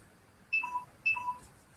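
A mobile phone gives two short, quiet electronic beeps in quick succession, each a bright falling two-tone blip, with no talking around them.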